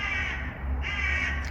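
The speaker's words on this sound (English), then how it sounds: "What are these birds talking about?" Crows caw loudly and close by in two harsh, overlapping bursts, with no voice heard.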